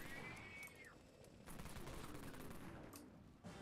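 An armed scientist NPC in the Dead Frontier game fires bursts of gunshots, faint and distant, in scattered rapid volleys over a few seconds.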